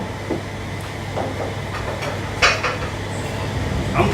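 Empty plates and dishes set on a Korean dining table for eight clink and knock together as they are handled. The contacts are sparse and sharp, with a few louder clatters over a low background hum.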